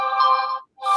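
A phone notification ringtone plays a bright, electronic tone for about half a second, stops briefly, then starts again, loud and close with no talk.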